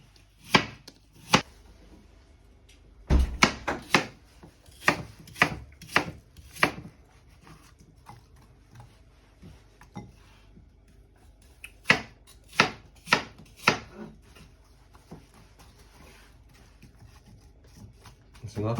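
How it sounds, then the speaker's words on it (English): A knife slices through an apple on a board in a run of sharp, close chopping knocks, some in quick bursts and others spaced out, with a person talking over them. "One apple. Just going to slice that in there like that."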